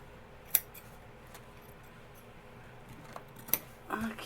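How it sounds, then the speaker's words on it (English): Scissors trimming thread on journal signatures during hardcover bookbinding, two crisp snips a few seconds apart, faint and close, over quiet room tone with a soft rustle at the end. "I will start trimming this a little"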